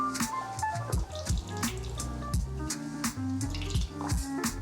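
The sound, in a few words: beer running out of a fermenter tap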